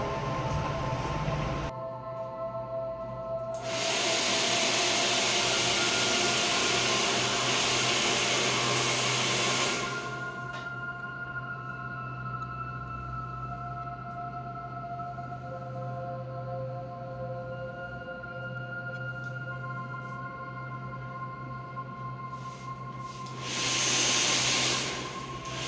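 Hair dryer blowing on medium-length hair during a haircut, a loud steady whooshing roar in two long bursts with a quieter background hum between and a short final blast.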